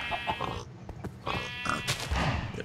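Sheep bleat in a pen in the Minecraft video game, with several short, wavering bleats in quick succession, close and fairly clear, with no talking.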